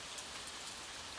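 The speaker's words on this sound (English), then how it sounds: "allow the gentle patter of rain to wash away your cares" Gentle rain falls in a soft, constant patter of drops, unbroken and even throughout with no talking.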